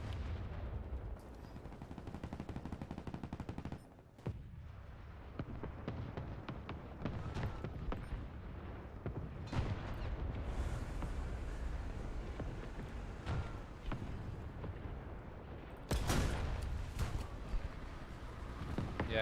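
Enemy gunfire in War Thunder: rapid bursts and single shots crackle at mid distance over a steady rumble of engines, with louder close volleys near the end.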